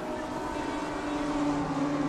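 A steady, droning engine note from an Audi GTR4 race car, rear-engined, lapping the Mid-Ohio circuit in the Raceroom sim, holding a sustained tone without pauses.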